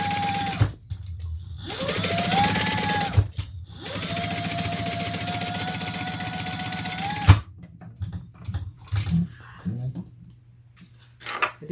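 A sewing machine stitches bag pieces together in two long, loud, steady bursts of rapid needle chatter, separated by brief pauses, then quieter handling clicks and fabric shuffling follow.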